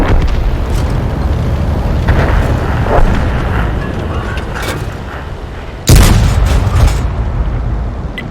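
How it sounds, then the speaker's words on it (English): Two loud tank cannon shots from a Hellcat in World of Tanks boom through a steady engine and battle rumble, the second blast sharper and more forceful, with no talking over them. "first shot was an unfortunate miss"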